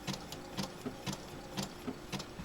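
A sewing machine stitches appliqué onto a baby boy's quilt, its needle running in short rhythmic bursts with brief pauses between them, close and fairly quiet.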